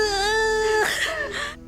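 A baby cries in a sustained, wavering wail that breaks into choppy sobbing cries, close and fairly loud, with no speech over it.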